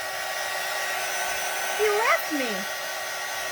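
A hair dryer runs as a steady, loud broadband whoosh for the whole stretch, while a voice speaks briefly over it.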